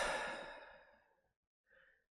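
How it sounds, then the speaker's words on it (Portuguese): A slow out-breath through the mouth during a yoga breathing exercise, a soft airy sigh that fades over about a second, then a brief faint second breath after a pause. "Depois solta o ar pela boca, simplesmente deixando o ar sair."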